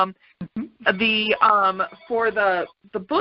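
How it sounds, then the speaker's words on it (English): A landline telephone rings in the background during a phone call, staying faint beneath steady close-up talking that runs through the whole stretch. "oh gosh, excuse the phone in the background."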